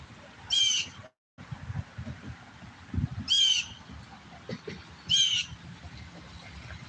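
A bird gives three short, separate calls a few seconds apart, moderately loud over a rumbling outdoor background.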